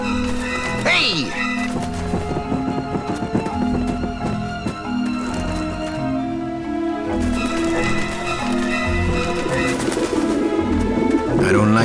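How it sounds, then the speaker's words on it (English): Pigeons on a roof in the video game Grim Fandango, low burbling coos repeating throughout under ongoing game music and speech. "At least I got to clear the pigeons from the roof of my memories."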